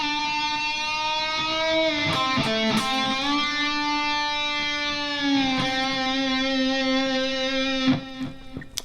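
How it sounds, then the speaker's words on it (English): A distorted electric guitar note on the G string sustains, then bends downward and back up to pitch, ringing steadily with a few pick scrapes along the way. "we're going to bend that note up to really where we started at."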